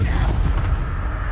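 The Incendio fire spell cast in Hogwarts Legacy gives a loud, dense burst of low rumbling roar, blasting steadily through the short moment with no speech over it.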